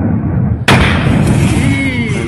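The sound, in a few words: huge explosion of failed rocket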